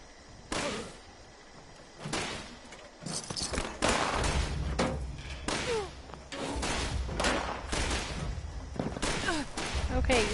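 Enemy gunfire in the video game Fallout 76, a series of sharp, loud shots and bursts arriving irregularly, some in quick clusters, over a rumbling background.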